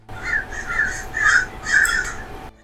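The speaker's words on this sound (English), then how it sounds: "Quick guests from the crows there." Crows caw repeatedly outdoors, four or five harsh calls in a loose rhythm at moderate distance, standing alone with no talk over them.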